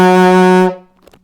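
An alto saxophone sounds its low E flat, also fingered as D sharp, as one loud, steady held note lasting under a second before it stops, followed by faint small noises.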